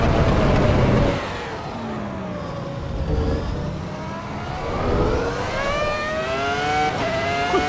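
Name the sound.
V10 race car engine revving in Assetto Corsa Evo video game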